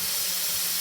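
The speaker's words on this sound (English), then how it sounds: "So I'm going to hit the pan with a lot of vinegar." Vinegar hits a hot pan of pork and boils up in a loud, dense, continuous hiss of sizzling steam, close and unbroken, with no voices.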